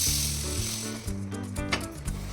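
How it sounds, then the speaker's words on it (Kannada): Green moong beans dry-roast in a pan with a soft, steady crackle and sizzle, close and fairly quiet, with faint stirring. "ಇದನ್ನು ಹಸಿ ಸ್ಮೆಲ್ ಹೋಗೋವರೆಗೂ ಅಂದರೆ 5 ರಿಂದ 7 ನಿಮಿಷ ಸರಿಯಾಗಿ ಹುರ್ಕೋಬೇಕು"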